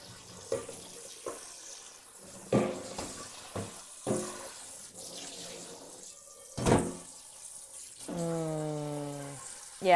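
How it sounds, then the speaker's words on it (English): Kitchen sink with running water and scrubbing before cooking Okinawa soba and braised pork: faint intermittent splashes, knocks and rubbing, ending with the rising tone of a vessel filling under the tap. "I'm going to give this a pretty thorough scrubbing with soap and water"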